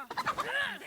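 Chicken clucking in the video game DayZ, a short run of close, choppy clucks ending in a drawn-out squawk, with faint speech mixed in.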